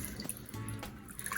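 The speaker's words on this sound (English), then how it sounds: "All you want to do is just get this out gently and then squeeze most of the water out" A wet wool diaper cover is gently squeezed by hand, and water trickles and drips out in a soft, close, uneven dribble with a few small splashes.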